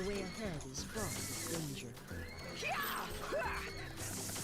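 A fiery steed horse in a video game neighs in rising and falling whinnies amid clattering game effects, with a person talking over it throughout.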